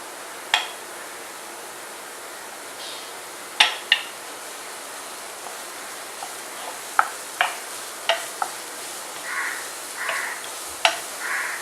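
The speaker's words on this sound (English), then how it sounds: "I'm going to saute these for about 1 to 2 minutes" Chopped carrot, cabbage and capsicum being stirred in a pan, with scattered sharp scrapes and clinks of a spoon against the pan over a faint background sizzle, heard close with no talking.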